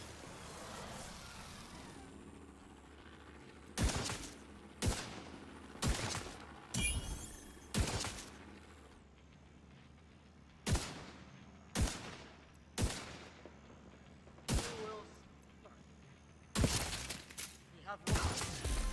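Single gunshots fire in The Division 2. About a dozen sharp, loud cracks come at irregular intervals, a few in quick pairs, over a quieter ambient game background.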